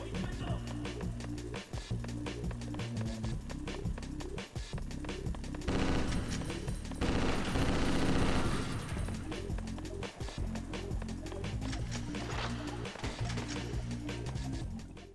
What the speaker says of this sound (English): Something up there shooting at me from somewhere.